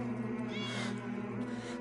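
A cat meows once in a dim indoor scene from the video game 11-11 Memories Untold, a drawn-out mid-pitched wail over a low steady background hum.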